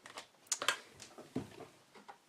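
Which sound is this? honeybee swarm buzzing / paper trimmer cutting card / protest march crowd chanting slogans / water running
paper trimmer cutting card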